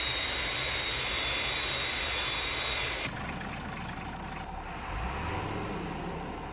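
A Fireflash jet airliner on final approach roars loudly and steadily with a high jet whine, then drops to a lower, softer rumble partway through.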